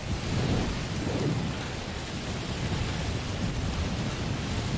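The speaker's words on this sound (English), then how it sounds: "They weren't joking about the whole storm." Thunderstorm in the video game Death Stranding: heavy rain pouring over deep rolling thunder rumbles, loud and dense throughout, no talking.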